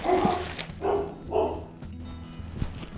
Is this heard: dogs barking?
yes